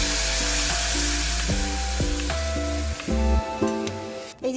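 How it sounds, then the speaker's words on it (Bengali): Garlic fried red in hot oil for tempering lentil dal, with dried red chilli, crackles and sizzles loudly up close alongside a stepped tonal hum from the kitchen, ending in a brief clatter; no one speaks. "এখানে এবার আমি দেবো ডালটাকে ফোড়ন"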